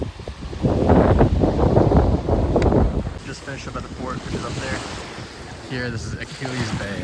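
Ocean waves washing into a small cove at Achilles Bay, Bermuda, with steady surf wash and gusting wind buffeting the microphone, and a person talking over the water sound.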